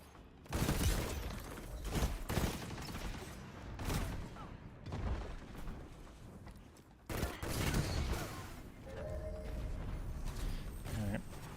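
Bursts of rapid gunfire in Destiny 2, loud close volleys and booms with brief pauses between strings of shots, dense and chaotic throughout, with a voice speaking at times over the shooting.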